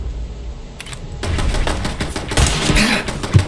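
A turret firing in Fallout 4: rapid bursts of close, sharp gunshots crackling irregularly, growing denser and louder toward the end.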